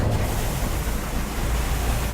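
Water rushing steadily into a car, a dense continuous roar close by, alone without voices.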